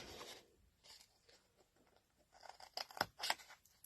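Scissors snip card stock in several short, crisp cuts that cluster toward the end, close up and fairly quiet, with soft paper handling between them and no talking.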